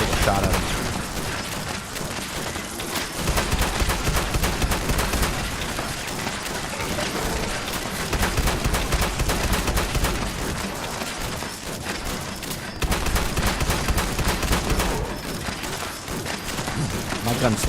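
Gunfire in Fallout 76, dense continuous rapid shooting and clatter running throughout, with a voice talking over it at times.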